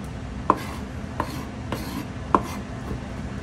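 A kitchen knife rocks and chops through garlic on a cutting board, a few sharp, distinct knocks spaced irregularly against a low steady background hum, with no talking.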